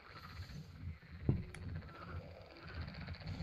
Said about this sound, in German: hier bricht gerade das Frosch-Armageddon aus